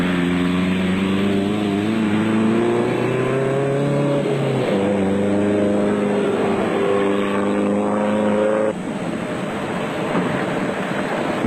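Off-road race trucks, a Castrol Toyota Hilux KZTE and a diesel-powered Nissan Hardbody, at the 2003 Mafikeng Off Road Race in South Africa. Engines drone loud and close, their pitch climbing then dropping sharply at gear changes, with no voices.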